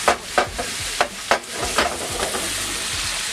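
Onions, garlic and Scotch bonnet pepper frying over high heat in a pan, giving a steady bright sizzle with several sharp stirring knocks and scrapes in the first half, close and fairly loud.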